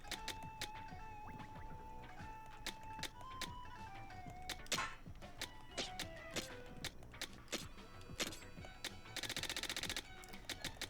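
Rapid-fire gun shooting in the video game Splatoon Raiders, a dense stream of sharp repeated shots over a busy game soundtrack, with louder bursts and a fast buzzing volley near the end.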